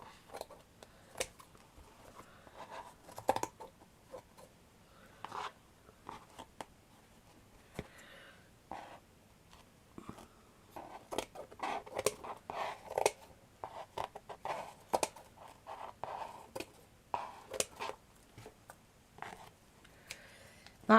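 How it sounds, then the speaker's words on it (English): Scissors cutting off excess material while making a shabby chic picture stand frame, a scatter of short snips and clicks spread unevenly through a quiet room, close and fairly soft. "And then just cut all your excess off"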